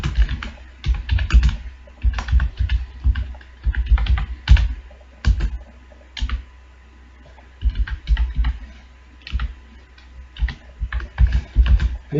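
Code typed on a computer keyboard in bursts of rapid close key clacks, with short pauses between runs and a few heavier thumps, no talking.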